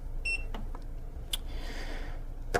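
A Zendure SuperBase V4600 power station gives a short, quiet electronic beep as it powers on, followed by faint clicks and low room hiss.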